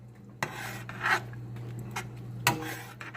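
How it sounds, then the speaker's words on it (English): A spoon scraping around the sides of a pot of chilli beans, a few short rasping strokes, close and moderately loud, separated by quiet pauses with a low steady hum. "So you want to just scrape around the sides and get the seasoning"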